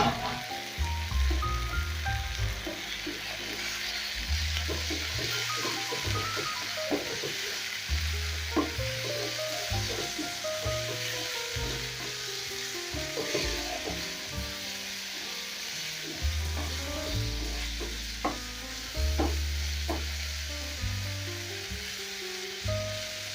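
Chicken liver sizzles and spits steadily in a hot pan, a continuous crackling fry with occasional stirring clatter and no talk.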